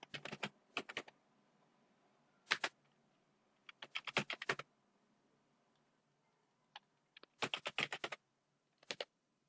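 Bursts of rapid clicking on a computer keyboard, separated by short quiet pauses, close and clear with no talk.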